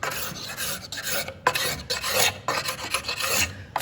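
A hand scraper rasps over a Purple Heart workpiece on a jewelry box, in repeated broad strokes of about a second each with short pauses between them, close and alone with no talking.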